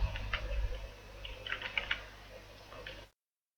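Keyboard typing at a computer while entering text into a SolidWorks drawing: light, irregular clicks in short bursts over a low steady hum, fairly quiet and close.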